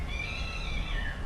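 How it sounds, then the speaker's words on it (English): A cat meows in the background of a workshop where a vehicle shaft is being inspected, a drawn-out, wavering cry held for about a second over low rumbling noise. "That cat's not having a good day."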